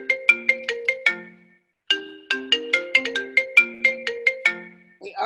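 A phone ringtone plays a bright, melodic chiming tune twice during a live Zoom speaker event, loud and close with a short pause between the phrases and no talking over it.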